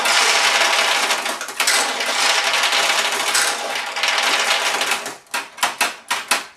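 Pachinko balls pour out of the jackpot assembly of a Nishijin pachinko machine, a dense metallic rattling rush that runs steadily for several seconds, then breaks into a handful of separate clattering bursts as the last balls drain.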